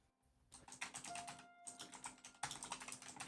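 Rapid, irregular clatter of fingers typing on a computer keyboard, close and fairly quiet, with a brief pause partway through and no voices over it.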